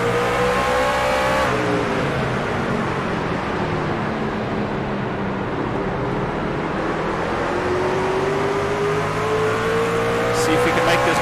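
Racing trucks roar around a corner at Martinsville in a racing video game, engines rising and falling in pitch as they accelerate and pass, loud and continuous throughout with commentary running over the top.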